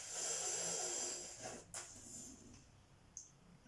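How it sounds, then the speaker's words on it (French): A long, airy exhale through the nostrils during a yoga cooling-breath exercise, close and soft with a hissy rush that fades, followed by a couple of faint clicks. "J'aspire l'air dans ce rouleau. Et j'expire, je rentre ma langue et j'expire avec mes narines."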